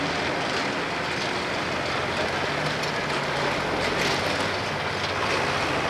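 A turbocharged tractor in the 9,500-pound class roars steadily through a pull at the Keystone LargeCarMag Nationals truck and tractor pull in 2025, a dense, continuous engine drone with no pauses or talk.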